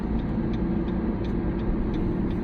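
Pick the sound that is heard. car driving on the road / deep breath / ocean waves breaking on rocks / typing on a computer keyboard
car driving on the road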